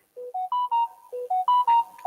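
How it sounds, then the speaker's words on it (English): A phone ringtone plays a bright, melodic chime pattern that repeats its rising and falling notes twice, loud and close, with no talking over it. "Wow, my phone is going up."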